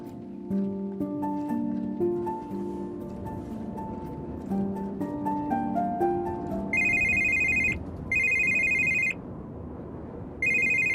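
A mobile phone rings with an incoming call, a loud repeating electronic ringtone in three bursts with short gaps, entering after a stretch of musical score and sounding over it.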